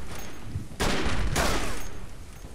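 Gunfire in the World War I trench shooter Verdun: two loud, dense bursts of shots crack out one after another over a background din, then fade, with no talk.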